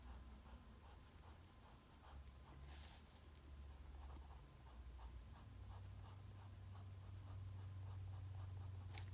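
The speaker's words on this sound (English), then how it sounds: "So I'm taking my pencil and allowing it, these delicate lines, to show the form this way" A pencil draws delicate, short shading lines on paper during a drawing-from-life lesson, making soft, faint scratchy strokes repeated in a steady rhythm, close up and quiet, with no talking.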